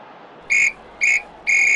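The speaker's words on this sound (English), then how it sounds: "And that is a full-time whistle." A referee's full-time whistle from the Classic Soccer PC video game blows three sharp, shrill blasts, two short then one longer, loud over faint background noise.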